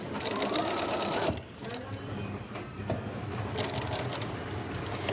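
A sewing machine runs steadily while stitching the top seam of a tote bag with French seams, pausing briefly to reverse into a backstitch before stitching on; a rattling, even mechanical hum fills the whole stretch.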